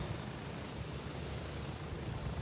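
Helicopter in the video game Deadzone Rogue, a steady low rotor rumble with a thin high whine, moderately faint and continuous.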